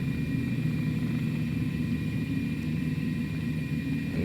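Black Square Cessna Caravan turboprop engine idling in Microsoft Flight Simulator 2020, a steady low drone with a faint high whine above it, constant and uninterrupted throughout.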